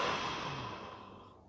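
A single long, deep exhale during a guided meditation, close and soft, fading steadily into quiet.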